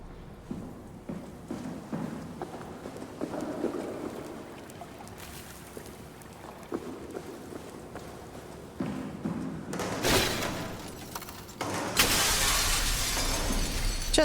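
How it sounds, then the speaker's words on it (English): Glass shattering underfoot while walking through it in the video game SOMA, a low ambient hum followed by bursts of crunching, breaking glass near the end, close and fairly loud. "just walk through some glass"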